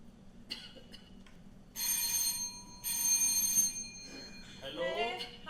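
A telephone rings in two loud bursts of bright, trilling bell tone during a street play scene, separated by a short pause, over low background murmur and a faint voice near the end.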